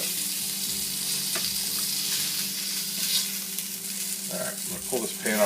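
Steaks sear in a hot, smoking pan, giving a loud, steady close sizzle and crackle throughout, with a few faint clinks near the end and no talking.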